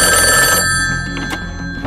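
A telephone rings loud and close on an agents' emergency line, a bright steady trill that cuts off partway through and leaves quieter room sounds and faint movement.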